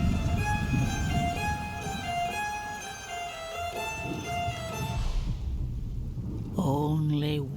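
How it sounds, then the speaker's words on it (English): Steady rain pours during a thunderstorm with low rumbling, loud and continuous, under a sustained tonal musical drone that fades before a sweeping tonal swell near the end. "So let's enjoy the storm a moment."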